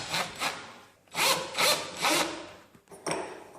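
Screws are tightened on a Baldwin door lock with a hand screwdriver, making a run of rhythmic scraping, grinding strokes with short pauses between turns. The sound is close and there is no talk.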